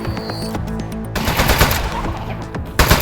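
Rapid automatic gunfire from shooting in the video game Aperture Desk Job, a dense burst of shots over game music that pauses briefly and then resumes, loud and close throughout.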